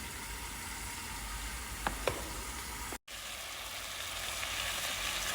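Chicken softening as it fries in its own rendered fat in a pan, a steady loud sizzle throughout, a couple of brief utensil clicks midway and a momentary break, no voices.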